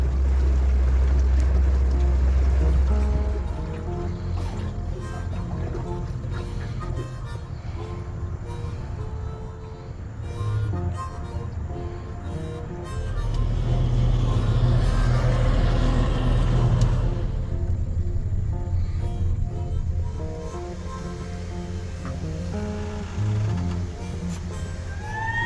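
A boat motor idles in reverse on the Tennessee River, a low rumbling drone that swells and eases over time, with water sloshing around it and no speech.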